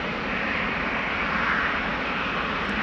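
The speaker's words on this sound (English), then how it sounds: "As this 22-year-old 777-200 is rolling down runway 18 left" A 22-year-old Boeing 777-200 rolling down runway 18 Left at Amsterdam Schiphol in rain and spray gives off a steady, loud wash of jet engine roar with no voices.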